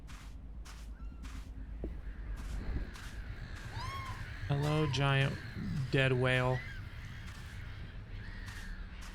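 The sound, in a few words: seagull calls in the video game Minute of Islands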